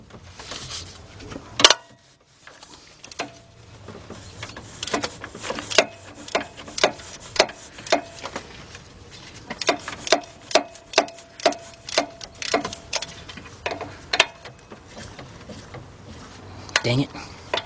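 Swivel ratchet turning a 15 mm deep 3/8-drive socket on a bolt at the lower intake manifold of a 2004 Chevy Monte Carlo 3.4 engine, a run of quick, evenly spaced clicking ticks, fairly close, with faint talk around it.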